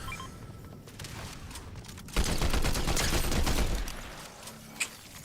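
Sustained burst of rapid gunfire from the video game Fortnite, shooting at a scanner, loud and dense for a couple of seconds, with a sharp single crack near the end over lighter game noise.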